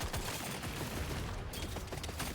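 Dense, continuous gunfire from the video game Deep Rock Galactic: Survivor, a rapid wash of overlapping shots with no pause, steady in level from start to end.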